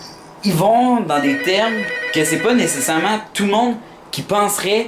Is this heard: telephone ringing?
yes